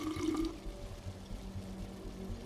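Toxic water is collected in the game We Happy Few: a short splashy gush of liquid at the start, then faint trickling against a low background hum.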